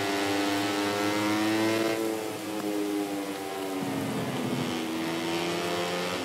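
A MotoGP 20 racing motorcycle in a wet race, its engine droning loudly with climbing and falling pitch as the bike revs through corners, with a hiss of spray underneath and no voices.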